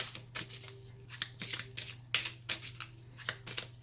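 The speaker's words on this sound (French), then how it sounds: "Mais on va continuer de mélanger." Tarot cards being shuffled by hand in a quick, uneven series of soft swishing strokes, close and fairly quiet over a low steady hum.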